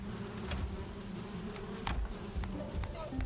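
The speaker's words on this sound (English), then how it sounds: "Hear the bees buzzing?" A steady drone of bees buzzing in a Viking video game carries through, joined by light footsteps and scattered clicks over the low hum.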